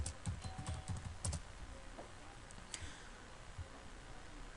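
Someone typing text on a computer keyboard in a word processor, a quick cluster of soft clicking keystrokes at first, then sparser taps, close and quiet with no talk.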